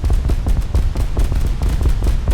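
Ship guns firing in War Thunder during naval damage testing, a loud, continuous barrage of booming overlapping blasts with heavy low rumble and no gaps.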